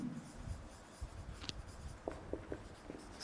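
A marker or chalk scratches across a classroom board during a chemistry lesson on the periodic classification of elements, in short strokes and taps over a faint room hum.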